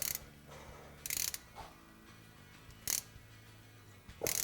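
A ratchet on an adapter turns a thread tap while a motor mount plate is installed on a Polaris RZR XP 1000, giving short, sharp clicking bursts at irregular intervals, close and fairly quiet, with no voices.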